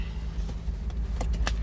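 A Nissan A33 Cefiro with a VQ30 engine runs at a steady idle, a low, even hum heard from close by with a few faint clicks and knocks, no voices.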